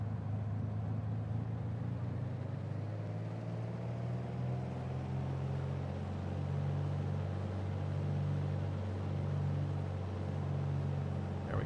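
Piper Archer II single-engine piston aircraft in Microsoft Flight Simulator 2020 throttled up to 2,000 RPM, a steady droning engine hum that rises slightly in pitch and holds loud and continuous throughout, with no talk.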